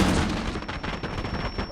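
A dense burst of gunfire in a Rainbow Six Siege league match, with rapid loud shots packed close together over a short stretch with no talk.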